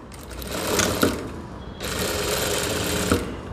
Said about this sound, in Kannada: ಈ ಕ್ಯಾನ್ವಸ್ ಓಪನ್ ಆಗಬಾರ್ದು ಅಂತ ಸ್ಟಿಚ್ ಹಾಕ್ತೀವಿ